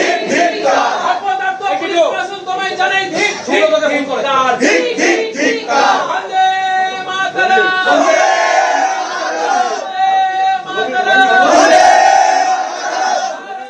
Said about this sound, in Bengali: থানার ভিতরেই স্লোগান দিতে থাকেন বিজেপি কর্মী সমর্থকরা